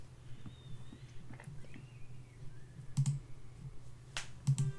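A typewriter typing in the video game Rosewater, heard as a few sparse, crisp key clicks against quiet background game music.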